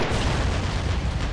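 A Soviet anti-tank gun firing on a StuG assault gun in the Kursk 1943 battle of the Men of War: Assault Squad 2 game, a dense, loud burst of explosive noise with no talk.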